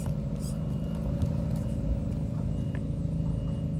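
A Redcat Ascent RC crawler on Hyrax tires grinds over loose rocks with a constant close, whirring motor rumble and occasional faint clicks of rock contact.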